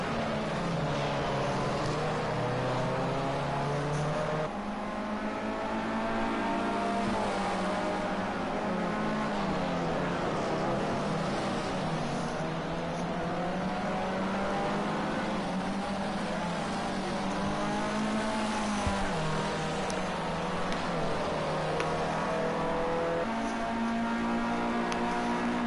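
Formula C race cars scream around the track in the racing game Project Cars 2, a continuous loud engine whine with rising and falling pitch as gears shift, several cars blending together throughout.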